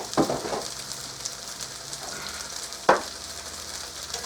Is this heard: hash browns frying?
yes